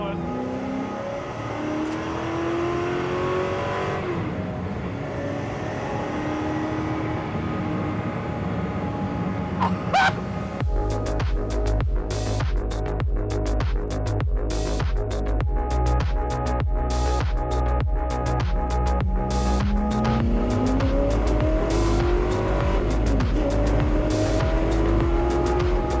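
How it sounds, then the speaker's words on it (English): A Ford GT40 sports car accelerates along a road on a long road trip, its engine note rising through gears with a loud, raspy close roar and rattling, and people talking over it. "Driving a GT40."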